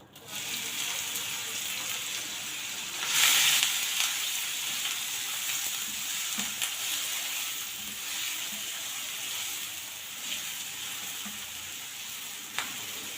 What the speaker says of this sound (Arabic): هندبل البصلة لحد ما توصل للون الذهبي